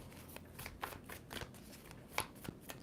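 Tarot cards being shuffled by hand on a table, a soft continuous riffling with brief flicks and taps, close but quiet, with no talk over it.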